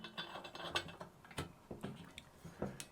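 Set screw being tightened on a Starlink Gen 3 pipe adapter, a series of soft irregular metallic ticks and ratcheting clicks, close and quiet, with no talking.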